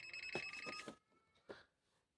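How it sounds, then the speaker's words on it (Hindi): Beeps from an HTC DM-81 digital multimeter detecting a live 220-volt wire: a cluster of sharp, tonal beeps, then a pause and a single shorter beep, fairly close and clear with no talking. "220 वोल्ट की लाइन पे लगाने से यहाँ पर एक बीप,"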